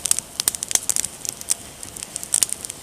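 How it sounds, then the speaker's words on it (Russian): A campfire of slightly damp logs burns outdoors, crackling and popping with irregular sharp snaps over a soft hiss, close and steady with no talk. "Но зато костер получился."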